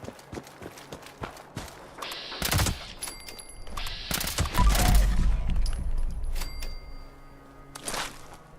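Weapon fire in the video game Fallout 76 comes as dense bursts of sharp gunshots mixed with heavy thuds, loud and clustered in several volleys over a low rumble, with no talk.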